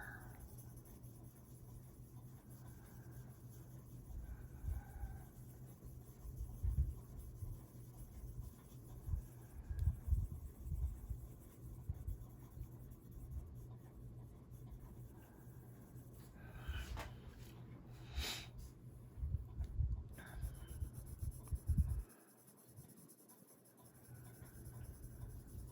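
Prismacolor colored pencils rubbing across paper in steady, soft strokes, a faint continuous scratchy scraping that swells and eases in rhythm, close up and alone with low room hum.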